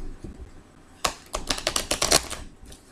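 A tarot deck is shuffled near the microphone after a quiet moment, a quick, loud series of riffling card snaps and flutters lasting about two seconds.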